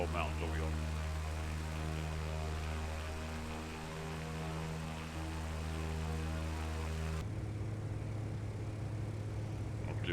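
A small propeller airplane drones steadily in flight, a constant engine hum with strong harmonic tones that dips slightly midway and then shifts to a lower, rougher pitch near the end.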